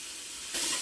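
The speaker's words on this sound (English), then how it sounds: "I'm just going to take our meat and put that in here to brown" Beef and onion browning without added oil in a tall soup pot, a steady soft sizzle that swells louder and brighter near the end, close and alone.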